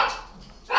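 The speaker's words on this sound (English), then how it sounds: "It's my dogs." Pet dogs barking indoors, two quick bursts at the start and end of a short moment, fairly close and loud, with a faint voice underneath.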